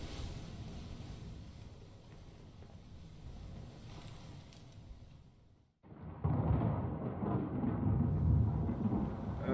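Thunder from a brewing storm in Return of the Obra Dinn: a low rumbling wash under wind and rain, a sudden brief drop to silence, then a louder, fuller roar of storm noise.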